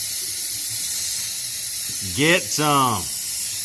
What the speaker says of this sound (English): Get this all sprayed out, some brake clean it up real nice